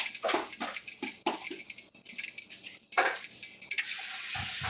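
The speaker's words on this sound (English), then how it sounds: "Shauna, can you pour me some of that water in here?" Water poured from a container into another vessel, a run of splashy, uneven bursts that ends in a steadier, louder rush, heard close up with no talking over it.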